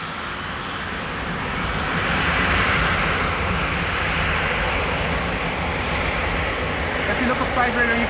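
A jet aircraft departing from runway 24 at Amsterdam Schiphol Airport, a broad continuous engine roar swelling and holding loud, with a voice speaking over it.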